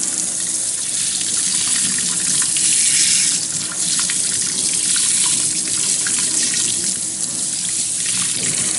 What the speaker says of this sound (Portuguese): O que a gente vai fazer agora é lavar e colocar essa carne de molho na água para dessalgar